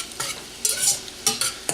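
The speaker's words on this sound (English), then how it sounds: "all we want to do is soften down the garlic and the onion" Garlic and onion softening in a pan, a light sizzle broken by several spoon stirs and scrapes in short bursts, close and alone without voices.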